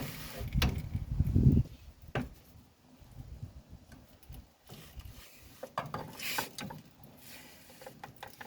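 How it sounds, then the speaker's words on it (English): Tearing and crunching of a metal oil filter being ripped apart on a 1959 Ford Galaxie, a loud burst of scraping early on, then scattered clicks, knocks and metallic creaks in a garage. "And I am just ripping the oil filter into smithereens."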